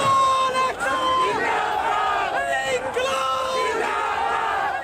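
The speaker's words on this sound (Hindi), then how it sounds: "उन्होंने खूब नारेबाजी भी की" A large crowd of protesting farmers on a road shouts slogans together, loud and continuous, with rhythmic chanted bursts rising and falling throughout.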